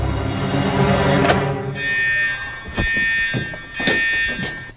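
A fire alarm, pulled by hand, sounds a steady electronic tone in pulsing bursts with a few dull thunks, loud and close, with no talking.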